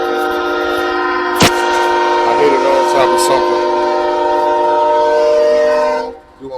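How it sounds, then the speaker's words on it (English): A loud train roars close by with a steady, harmonic horn-like drone for about six seconds, punctuated by a sharp knock and a few clatters before it fades out abruptly; someone speaks briefly over it. "This train loud as mud."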